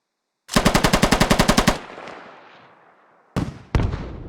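A PKM machine gun in a video game fires a rapid, loud burst of about a dozen close shots, followed by a fading echo and then two more single heavy bangs.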